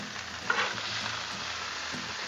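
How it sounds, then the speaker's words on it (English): Burgers and chorizo sausage sizzle steadily on a Blackstone griddle, a loud, continuous frying hiss with a brief scrape and clatter as a patty is flipped early on, and no talking. "Let's go ahead and give our burgers a flip."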